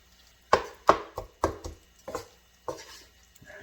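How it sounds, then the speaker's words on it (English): Knife chopping bacon on a board while making a puff pastry pizza, several sharp irregular chops spaced about half a second apart, close and fairly loud, then a few softer cuts. "chop up that bacon"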